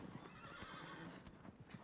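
A horse in the video game Shadow of the Colossus, its hooves clip-clopping steadily with a brief whinny, fairly quiet throughout a short stretch with no talking.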